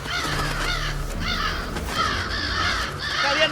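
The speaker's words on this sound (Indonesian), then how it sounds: "Burung gagak ya." A crow caws loudly and close by in a series of harsh, repeated calls, about four in quick succession over a low background hum, with no talking.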